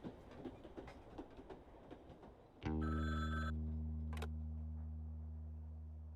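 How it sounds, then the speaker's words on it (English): A random street phone rings in the video game Frog Detective 3, its loud electronic ring with a low sustained hum cutting in abruptly over background ambience and fading slowly. "This is a random phone on the street. Why did you assume it's ringing for you?"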